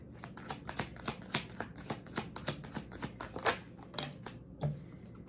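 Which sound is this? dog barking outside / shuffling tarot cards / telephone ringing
shuffling tarot cards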